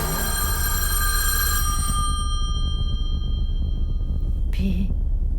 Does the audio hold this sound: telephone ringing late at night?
yes